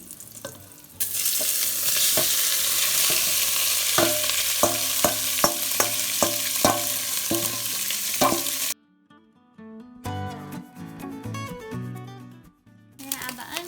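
Saltfish hits hot vegetable oil in a pan and sizzles loudly and steadily, with a stirring utensil scraping and clacking in a quick series, before the sizzle cuts off and brief clattering follows.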